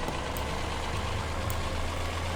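A weathered, faded tractor in the video game Farming Simulator 2017 idles with a steady, loud, low engine rumble that runs unbroken throughout, no voices over it.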